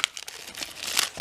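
Plastic packaging of an Australian Christmas collage pad from a Kaszazz card value box being ripped open: close, crinkly tearing in short, sharp bursts over about a second, with no talking.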